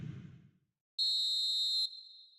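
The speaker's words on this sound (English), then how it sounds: "The whistle's gone, and that's it for the first half." A referee's whistle sounds the end of the first half in the football video game eFootball 2026, one steady shrill blast of about a second, clear and loud after a brief hush, fading into low crowd noise.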